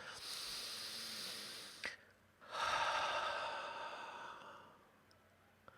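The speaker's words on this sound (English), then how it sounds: "Nice big deep breath." One long, soft, airy breath drawn in deeply and slowly let out, close and quiet, with no talking over it.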